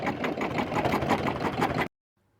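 An embroidery machine sews a dense satin stitch on fabric held in its hoop, a fast, steady mechanical whir and clatter that runs close and even for about two seconds, then stops abruptly into silence.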